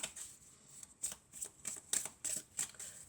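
Oracle cards being shuffled for a love reading make a quiet, close, rhythmic run of crisp riffling bursts, about seven quick flurries with short gaps, and no voice over them.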